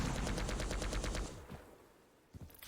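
Rapid Tri-bolt fire in a Quake Pro League match, a fast rhythmic burst of about ten close, loud shots lasting over a second, then a short quieter tail with a couple of softer hits.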